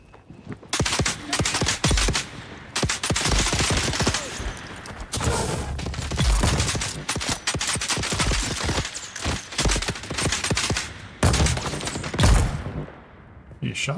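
Rapid, dense gunfire rattles almost nonstop in the survival game Dune Awakening, loud and close with bursts of automatic fire and sharp single cracks, briefly thinning in a few gaps.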